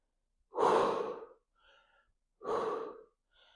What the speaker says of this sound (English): Let's take some deep breaths in, let it come down.